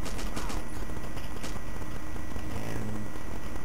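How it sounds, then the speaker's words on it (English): Sustained bursts of machine gun fire in the WWII shooter Battlefield 1942 on the Midway map, with two guns firing at once, one from atop a tank, dense and continuous rattling throughout, mixed with engine rumble. "you're hearing two machine guns because I'm using one right now"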